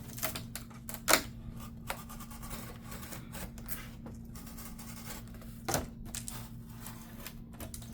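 A blade cuts through a cardboard pizza box being turned into shelving, giving a faint, steady scratchy rasp broken by a few sharp snaps and clicks, close and quiet with no talking.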